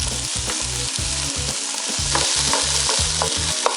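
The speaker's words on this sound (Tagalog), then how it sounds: "Pag okay na po ang sibuyas, pwede na po natin isunod ang carrots at patatas. Lutuin lang po natin ito ng 3 minutes." Onion, carrots and potatoes being sautéed in a pan for fish afritada: a steady oil sizzle with regular rhythmic stirring scrapes, close and continuous, no talking.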